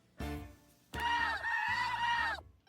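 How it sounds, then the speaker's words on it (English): Mr. Cluckles, a man-chicken creature in the video game Date Everything!, gives a short honking cluck and then a longer, warbling cluck-like call. "Mr. Cluckles, a bizarre combination of man and chicken?"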